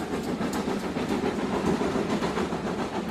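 A train travels on rails with a steady rumbling roll and faint rhythmic clatter, continuous and moderately close, with no voices.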